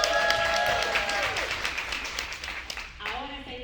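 An audience applauds and cheers for performer Kim Freshwater at a live show, a dense wash of clapping that swells, then thins and fades out with some cheering voices.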